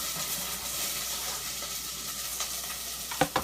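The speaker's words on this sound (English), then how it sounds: "I'm going to take this onion and put it in a pan now." Onion just added to a hot pan, frying with a loud continuous sizzle and hiss, with a few clattering knocks near the end.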